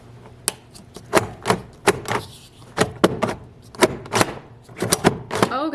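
A small onion being chopped in a hand-pull chopper, a rapid series of sharp, close clacks and whirring pulls repeating unevenly, some in quick pairs, with no voices.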